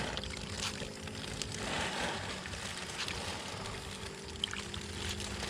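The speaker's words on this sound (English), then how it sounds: "Wash again. You can never wash your hands too many times." Water runs steadily from a tap during a hand wash, a continuous pouring hiss with no voices.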